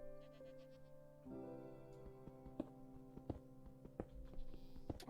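A goat in the video game Minecraft lets out a drawn-out, wavering bleat that lingers over a quiet background dotted with soft clicks and ticks from the game.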